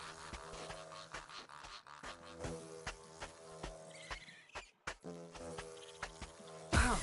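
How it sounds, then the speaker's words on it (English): Mosquito-like insect buzzing in the video game Baby Steps, a thin persistent drone running under busy game music and footstep sounds, with a sharp louder burst at the very end. "what is that like mosquito noise I keep hearing?"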